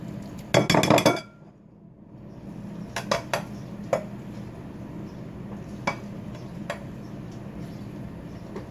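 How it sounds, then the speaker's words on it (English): A utensil scrapes and clinks against a pot and bowl while cooked food is served, a short loud clatter followed by scattered lighter clinks and taps. "just scoop it out into the bowl"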